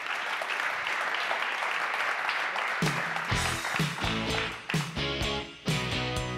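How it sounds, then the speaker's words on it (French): An audience at an evening hackathon awards ceremony claps, the applause building from a soft patter into loud, sharp rounds with a few louder individual claps near the end. "on peut l'applaudir."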